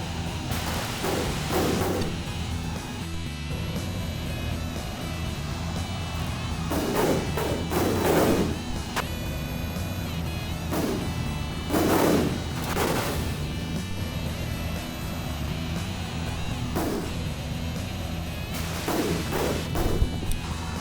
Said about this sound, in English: There were a whole bunch of nice explosions.